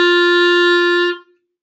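A clarinet holds a single steady note G for just over a second, bright and reedy, then stops cleanly with no talk.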